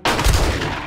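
Gunfire in a military-base survival video game, a loud sharp blast followed by a booming rolling decay lasting under a second, heard close and alone.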